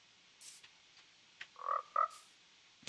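Frog croaking in Minecraft, a few short croaks near the middle amid light clicks and faint game ambience, fairly quiet with no talking.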